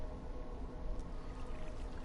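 Water runs through a tunnel in a Minecraft town, a steady, faint, continuous flowing wash with no voices over it.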